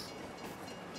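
A train in Farming Simulator 22 runs along the track, a faint steady rumble with soft rail clatter, brief and quiet with no talk.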